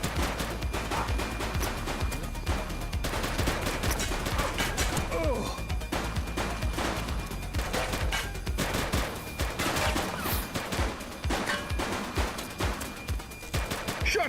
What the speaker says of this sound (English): Shots fired!